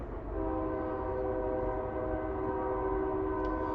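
A train passes with its horn sounding a long, steady, loud blast over the rumble of the rail cars, with no voices present.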